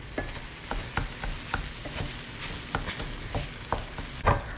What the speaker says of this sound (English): we're going to go ahead and mix this in with our veggie mixture